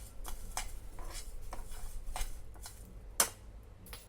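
Spices and ingredients stirred and roasted in a pan for a spicy yam pickle, with soft scraping and clinking of a utensil against the pan and one sharp clink near the end, fairly quiet and without talk.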